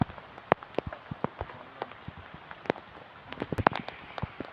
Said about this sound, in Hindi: पूरा टिपटी वर्षा